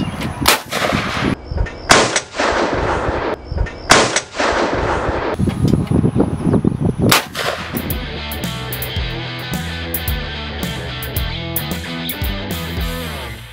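A Mossberg Model 500 20 gauge youth shotgun fires on an outdoor range, several loud sharp blasts spaced a second or two apart, then a clattering mechanical passage with steady rhythmic pulses.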